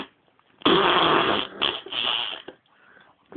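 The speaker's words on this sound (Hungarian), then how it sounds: "Fúj, valaki ide fing." A long, loud, sputtering fart with a brief pause midway, then a second rasping burst before trailing off, heard up close in a comedic Star Wars parody.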